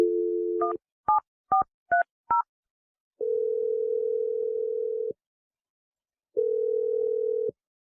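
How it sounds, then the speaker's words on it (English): A telephone dial tone, then a quick run of six touch-tone DTMF beeps as a number is dialed, followed by two long steady ringback tones separated by a pause; loud and close with no talking. "I'm going to dial the number right now."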